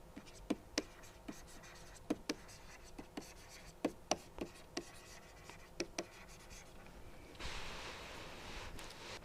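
Writing during a lecture on reliability and failure functions: a pen or chalk taps and strokes in sharp, irregular clicks over a quiet room, and toward the end a longer rustling scrape takes over.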